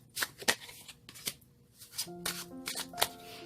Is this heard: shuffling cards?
yes